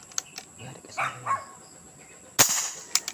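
One sharp, loud gunshot cracks outdoors, preceded by faint yelping sounds and followed by a smaller click.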